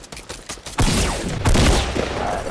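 Sustained automatic gunfire in a solo squads shooter video game, a close, dense fusillade of rapid shots with sharp bursts and no talk.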